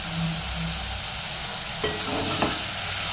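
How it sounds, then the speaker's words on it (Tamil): Soup ingredients with mint, curry leaves and coriander are stirred in a hot pan, a continuous sizzle with a few soft scraping strokes of a spoon, close and steady, no talking. "ஒன்று சேர லைட்டாக கிளறி விடுங்க"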